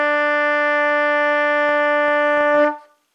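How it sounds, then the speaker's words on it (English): A trumpet holds a steady, bright E played with the first and second valves, sustained loud and close for about two and a half seconds before cutting off cleanly. "So we're going to use our first and second valve. This is called the note E."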